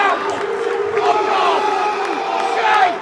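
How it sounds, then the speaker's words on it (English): Football fans in the away end at a Bolton versus Huddersfield match boo and shout at the manager, a dense loud crowd roar with individual angry yells rising above it. "You can see visibly a lot of booing in that away end"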